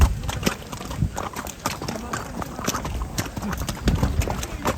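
A horse's hooves clip-clop in a quick, rhythmic run on the mountain trail near Sheshnag on the Amarnath Yatra, close and steady with faint voices in the background.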